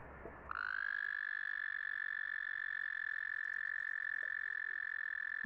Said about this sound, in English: We're gonna hear some toads real quick.